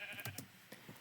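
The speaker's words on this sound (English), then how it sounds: "Ooh, there's a sheep." Sheep in Minecraft bleat a few times in short, wavering calls spread across the moment, fairly close and clear with no talking over them.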